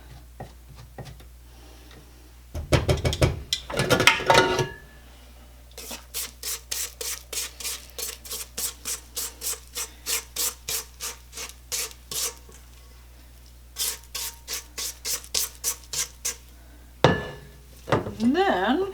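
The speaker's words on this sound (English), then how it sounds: "So we'll wipe off the beaters and then wipe down the sides." Mixer beaters and bowl sides are being wiped and scraped during cookie dough prep, heard as a long run of quick, regular rubbing and scraping strokes in close bursts, with a couple of louder knocks and clatters mixed in.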